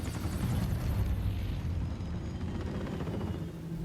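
A helicopter in the Mirror's Edge Catalyst video game produces a loud, constant low rotor roar and rumble with rapid chopping texture, steady throughout without speech.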